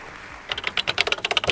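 Rapid typing on the incredibly clicky keyboard of an Apple Lisa 2 computer, a run of crisp, close keystrokes in an irregular rhythm, starting after a short quiet lead-in.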